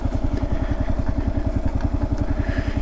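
A Kawasaki KLR650 motorcycle rides on dirt, its single-cylinder engine thumping in a steady, rapid chug, loud and close throughout with no talking.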